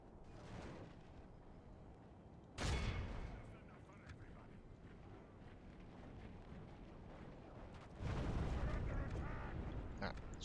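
Artillery fires during a video game siege: two heavy booming blasts ring out several seconds apart over a low rumbling background, with faint voices in between.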